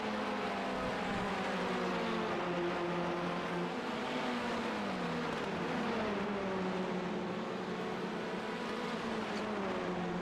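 Touring race cars drive at Barber Motorsports Park in a racing video game, several engines droning together in steady overlapping whines that shift pitch gradually as they hold speed.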